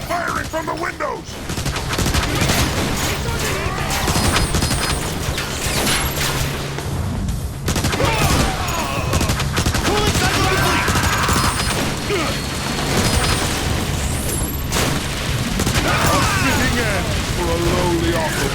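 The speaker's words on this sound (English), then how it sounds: "They're firing from the windows!" Sustained gunfire and explosions in the video game Transformers: War for Cybertron, enemies shooting from windows, dense loud bursts with heavy booms and mechanical clanks, nearly continuous, voices mixed in.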